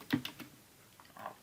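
Typing on a computer keyboard while writing code, a quick cluster of several crisp key clicks followed by a pause and a couple of softer taps, close and fairly quiet.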